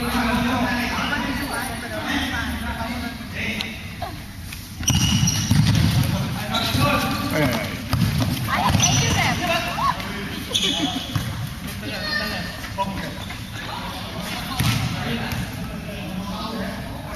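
A futsal ball bounces and is dribbled on an indoor court during a friendly local derby, giving repeated quick thuds and scuffs amid squeaking shoes, shouts and steady background chatter.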